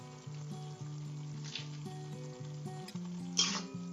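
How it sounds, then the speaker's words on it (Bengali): Tomatoes with turmeric and salt fry in a pan, a soft continuous sizzle running beneath a louder stepped musical melody, with a couple of brief brighter crackles near the end. "কাজেই আমি এখানে এইটাই ভালো করে আগে ভেজে নিচ্ছি"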